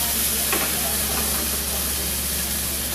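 Chicken thighs fry in a pan with a steady, loud sizzle and hiss, a continuous bed of crackling grease without pause, no talking over it.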